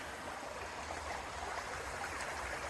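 A river near Blackwater Falls, West Virginia, rushes in a steady, even wash of flowing water, close by and continuous, with no voices.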